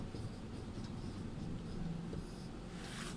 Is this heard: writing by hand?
yes